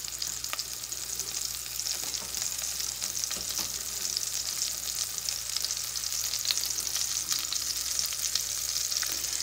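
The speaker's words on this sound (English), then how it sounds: "the olive oil is about medium high. We're just going to let it brown on both sides." Steak browns in olive oil over medium-high heat, giving off a loud, steady, close-up sizzle and crackle that keeps going with no voices.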